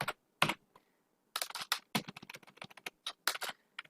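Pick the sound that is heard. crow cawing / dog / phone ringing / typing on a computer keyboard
typing on a computer keyboard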